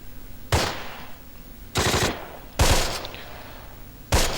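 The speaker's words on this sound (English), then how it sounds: "That ta-ta-ta-ta-ta. That's a Sturmgewehr 44" Sturmgewehr 44 automatic fire in a video game arrives as four separate short bursts spaced about a second apart, each sharp and loud with a rough, decaying tail between them.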